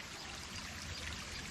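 A small hillside stream running down from tea estates on a trail near Rozella, Sri Lanka, flows steadily with a bright, continuous rushing wash, close and alone without any voices.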